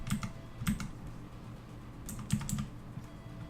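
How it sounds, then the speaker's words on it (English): A mechanical computer keyboard clacks in sparse, soft bursts of keystrokes, close by and fairly quiet, with no voices. "Oh man, I love mechanical keyboards."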